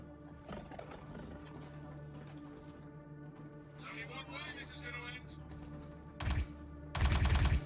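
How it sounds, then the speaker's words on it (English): Automatic gunfire shooting through a wall in the video game Star Citizen, inside an Onyx facility: a short loud burst, then a longer rapid volley near the end, over a steady droning hum with talk earlier on. "Shooting through the wall."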